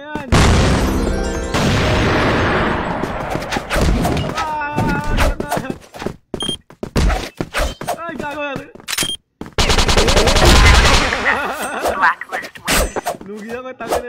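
Flash bomb and gunfire in the online shooter CrossFire during a clan match, with loud machine-gun bursts, booms and rapid shots, broken by gaps and mixed with game voice lines.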